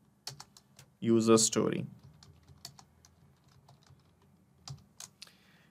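Soft clicking of computer keyboard keys being typed in scattered bursts, with someone speaking briefly over it.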